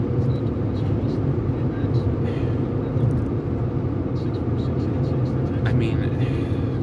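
A car cruises along a freeway, its steady low engine and tyre rumble heard from inside the cabin, with a continuous droning wash and no clear breaks.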